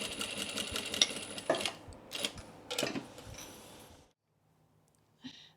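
Sewing machine stitching the side seams of a small pleated bag, a close run of rapid mechanical clattering in short bursts that ends abruptly, followed by near silence and one brief click.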